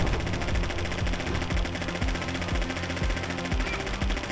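Rapid automatic gunfire in The Adventures of Sullivan forms a dense, continuous rattle, with evenly spaced heavier bursts beating through it at a steady pace.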